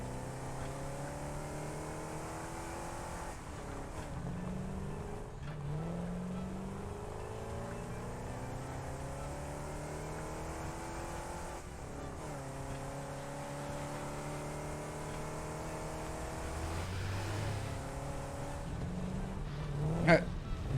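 A vehicle drives in the factory-building game Satisfactory, its steady engine drone rising and falling in pitch as it shifts and accelerates throughout, with a brief louder burst near the end.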